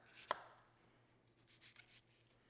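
Half an onion being cut for chapli kebab, one sharp knife chop against a board followed by quieter soft cutting sounds, close and faint.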